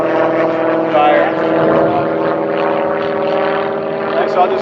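Small propeller airplane flying low overhead near Santa Monica Airport, a loud, steady droning engine hum that stays close throughout, with a person talking faintly underneath.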